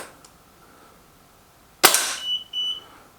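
A single sharp crack from an Artemis M11 regulated pellet air gun, loud and close, followed by a ringing metallic tone and faint after-noise in an otherwise quiet space.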